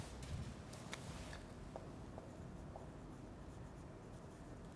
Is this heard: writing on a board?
yes